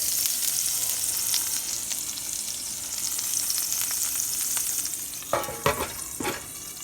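Breakfast bacon fries in a pan with a constant crackling sizzle, and several sharp clinks and scrapes come near the end.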